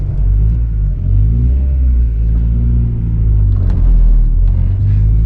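A Honda Integra's engine idles and revs on an early drive, a loud, close, steady low rumble that swells slightly in places, with no talking over it.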